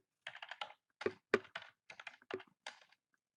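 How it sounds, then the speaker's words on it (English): A website address is typed on a computer keyboard in a few quick bursts of crisp, close key clicks, separated by short pauses, with no talking. "all you would do here is type in the website you want it to go to"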